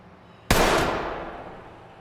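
A single sharp shot from an MP5 submachine gun in Ready or Not, a loud close crack followed by a long decaying echo, alone without talk.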